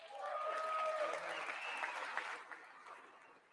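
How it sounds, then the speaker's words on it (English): A crowd in the chamber of Congress applauds during the State of the Union address, loud clapping that swells quickly and then tapers off over a few seconds. "I wasn't sure if anybody even on this side was going to applaud for that."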